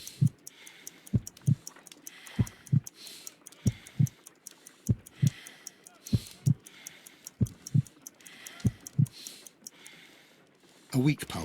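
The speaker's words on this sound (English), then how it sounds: "I need to concentrate and count the heartbeats." Heartbeat in the Sherlock Holmes Crimes & Punishments video game, a slow, steady lub-dub thumping at close range, evenly spaced pairs repeating for several seconds over a faint ticking background.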